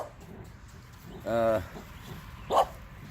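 A wiener dog (dachshund) in a garden gives a short burst of barks, then a single sharper bark a moment later, fairly close over faint outdoor background.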